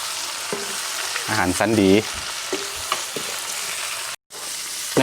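Giant beetles are stir-fried in a pan with a steady, crackling sizzle and occasional scraping stirs. A voice briefly speaks partway through.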